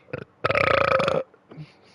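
A loud, drawn-out burp of about three-quarters of a second rises abruptly between two faint short sounds, at the close of a long gaming livestream.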